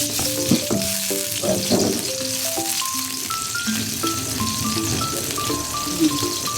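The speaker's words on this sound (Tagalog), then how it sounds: "Ayan, lagayin natin ang mantika. Gisa-gisa na tayo." Vegetables sautéing in hot cooking oil, a continuous sizzle and crackle with occasional stirring clinks, while music with a melodic line plays in the background.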